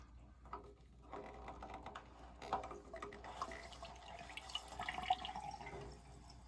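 Well water runs from an opened filter valve into a bucket, a faint continuous trickle with small drips and splashes, quiet and close, with no voices.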